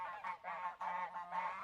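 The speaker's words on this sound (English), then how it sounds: "Oh, the geese. The geese have come over." Geese give a short burst of close, loud honks, three or four drawn-out nasal calls running almost together.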